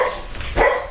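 A dog barks at a mail carrier, a short burst of barking with a louder yelp toward the end, close by and fairly loud, with no talk.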